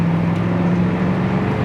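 Engine of a 1979 Camaro Z28 idling, a steady, loud low rumble with a constant hum, heard up close with no talk over it.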